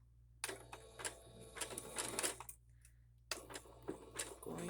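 A sewing machine stitches a zigzag on fabric strips with the needle set down, running in quick mechanical bursts of rapid clatter, pausing briefly, then starting up again close by.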